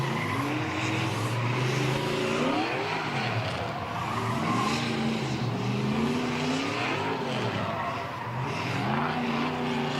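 Race cars revving and skidding at a grassroots drift competition, loud engines wailing up and down in pitch with steady tire squeal throughout, continuous and close with no voices.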